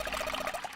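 Water running from a faucet in the game 999, a steady splashing trickle with a faint rhythmic gurgle across a short, moderately loud moment.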